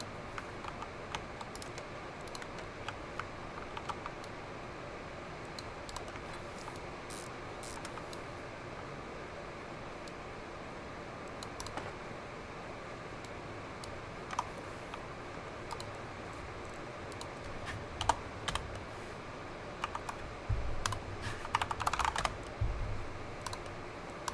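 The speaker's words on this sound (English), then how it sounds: "I feel like I type faster with this new keyboard." Steady typing on a new computer keyboard, soft close clicks running continuously in uneven bursts over a faint fan hum, growing a little busier toward the end.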